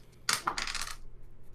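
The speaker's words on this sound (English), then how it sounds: "I'm gonna roll a dice real quick just to see my luck for this" A six-sided die rolled onto a table during a tabletop role-playing game session, a quick sharp clatter followed by a short rattling tumble that settles, close and fairly faint.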